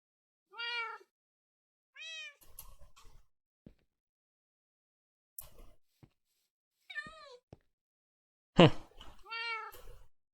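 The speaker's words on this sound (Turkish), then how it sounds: "Şimdi iki kedi çağırdık da bir, bir kedi çağıracaktım." Cats summoned in Minecraft give several separate game meows, clear and spaced apart, mixed with light clicks and shuffling in an otherwise quiet scene.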